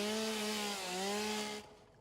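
Close and alone, a chainsaw in the game Satisfactory whines steadily at a wavering pitch for about a second and a half as it works through a tree, then cuts out abruptly.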